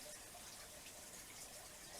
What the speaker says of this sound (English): Take your stick, put it on the lip of your cup, and it controls your pour